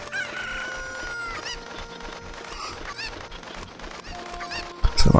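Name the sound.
chicken (cucco) clucking in video game Zelda: Ocarina of Time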